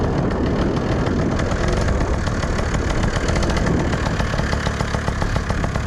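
A custom Puch Maxi N moped engine idles steadily while warming up, its loud, continuous buzzing putter running evenly from start to finish with no voices over it.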